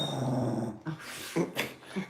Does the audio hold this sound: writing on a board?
no